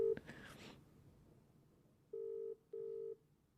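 An outgoing phone call rings unanswered: two long electronic ringback tones sound in a row near the end, each about half a second, after a brief burst of noise at the start.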